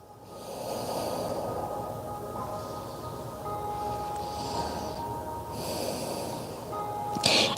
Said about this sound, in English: inhaling and exhaling through our nose